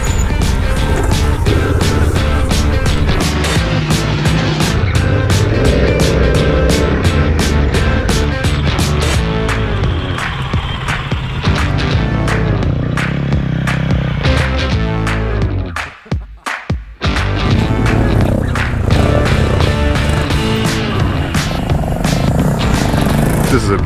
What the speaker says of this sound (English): This is a big bike to be doing this with.